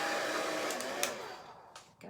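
A blow dryer blowing over craft ink on a two-sided card stock butterfly board, a steady close broadband whoosh that holds for about a second and a half, then fades and sputters briefly near the end.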